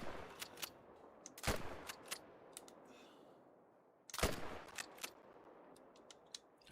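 Gunshots in a hunting game set on an ibex and roe deer hunt in Cuatro Colinas: two sharp, loud rifle cracks a few seconds apart, each trailing into a short echo, with faint clicks scattered between.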